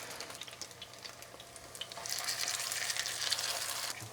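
Steady crackling sizzle of potato chop patties stuffed with meat frying in a pan, close and continuous, growing louder and busier partway through.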